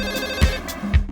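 A telephone rings in short repeated bursts, clear and fairly loud, with a dull thump under each ring and no talk.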